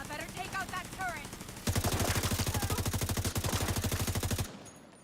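Rapid automatic gunfire in The Division 2 aimed at a turret, a steady loud burst of evenly spaced shots lasting nearly three seconds and cutting off abruptly, preceded by a game voice.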